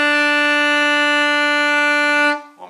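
A single sustained alto saxophone note B holds steady and loud for about two seconds, then cuts off, with a brief lower tone after it.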